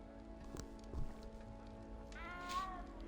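A cat in the Hogwarts Legacy video game gives a short, rising meow near the end, heard over faint rain-like ambience and game background tones, with an earlier brief soft mew.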